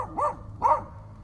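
An old herding dog barks twice in the woods, two loud, sharp barks about half a second apart, with no other sounds.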